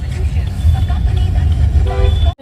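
Heavy evening road traffic in an Indian street, a dense continuous rumble of engines with short car horn toots near the end.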